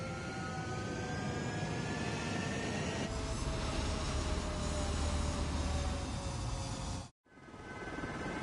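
Jet fighters take off from a runway in the Ace Combat 7 video game, a steady, powerful engine roar with rising whine tones that swells midway, then cuts out abruptly near the end before the roar returns.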